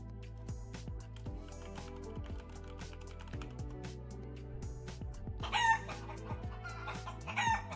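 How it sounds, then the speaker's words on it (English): A chicken sound effect, clucking and crowing, plays over a flight-sim stream amid steady keyboard typing, with louder squawks near the end. "If Polyot were here, Polyot would play the chicken sound, so I just took care of that."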